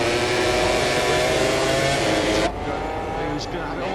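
Racing motorcycles at the Mugello MotoGP Italian Grand Prix sweep past in a loud, continuous engine roar that cuts off sharply midway, with commentary talking over the noise.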